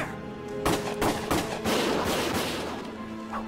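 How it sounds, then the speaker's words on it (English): Bursts of loud gunfire in Valkyria Chronicles crackle over a dense, booming game soundscape, with sharp shots and rumbling blasts layered on top of one another. "Gunfire! Everyone keep your heads down!"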